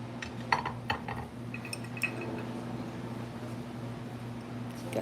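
Green glass dishes clinking as they are handled, a few light taps and chinks early on followed by a soft ringing touch, close but quiet over a low hum.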